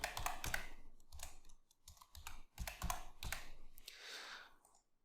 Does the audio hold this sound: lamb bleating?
no